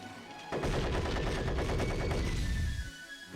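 Robotic Knight opens fire in the Yu-Gi-Oh! Falsebound Kingdom video game, a sustained rapid burst of gunfire lasting a couple of seconds before cutting off into a fading tail.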